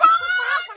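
Chickens in a chicken house: a short burst of high, nasal squawking and clucking close by, slightly harsh and wavering, with no talking over it.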